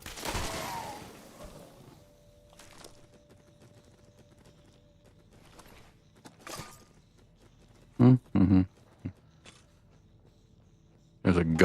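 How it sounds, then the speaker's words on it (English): Tripwire-triggered trap gun in Fallout 76 firing, a few sharp loud shots in quick bursts near the end, with faint scattered noises and softer sounds earlier. "There's a gun on a little sensor on a tripwire. Something kept shooting it."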